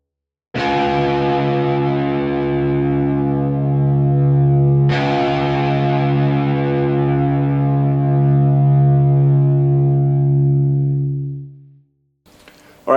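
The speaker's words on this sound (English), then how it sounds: "I'm going to play you my low E, which is C sharp, so you can tune up and play along with this lesson" Distorted electric guitar through Guitar Rig, low E string tuned down to C sharp, rings out as a single sustained note, struck again partway through, then decays to silence before a short noise at the end.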